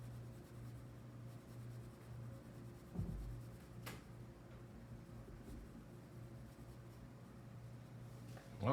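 An eraser rubbing on paper while drawing a shaded cylinder highlight, a faint, soft scratchy scrubbing that continues steadily at close range and stays quiet throughout.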